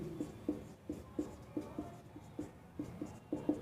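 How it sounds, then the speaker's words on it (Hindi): Chalk or marker writing on a board in a physics classroom, a steady series of short rhythmic strokes and taps, close and fairly quiet with no talking. "मैं यहाँ पे लिख दे रहा हूँ"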